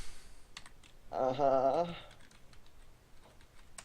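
Typing on a computer keyboard while a Pokémon game runs, soft scattered key clicks at close range with a brief voice sounding in the middle.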